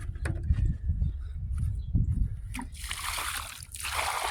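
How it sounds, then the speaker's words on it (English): Bucket water poured around a newly planted fruit tree, low sloshing and splashing into soil that gives way to a brighter, steady rushing pour in the last second and a half, close by. "we're going to water it in with this bucket water we got"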